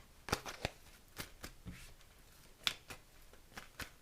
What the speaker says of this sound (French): On va tourner quelques cartes.